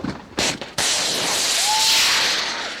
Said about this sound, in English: 2 Javelin missiles wobbled into the air before streaking towards their target